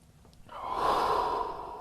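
A long, audible exhale through the nose during a yoga pose, rising after a quiet start and holding as a steady, close breathy hiss.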